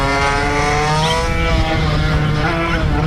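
A tuned Vespa 50 Special scooter, boosted to 58 hp, screams at very high speed near 125 mph, its two-stroke engine a loud, sustained high-pitched wail with steady harmonics throughout.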